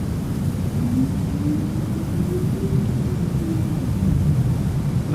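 Landing gear retracting on a G39 Griffin jet in MSFS 2020 on Xbox Series X, heard as a smooth rising mechanical whine over a constant roar of engine and air noise, steady and close throughout.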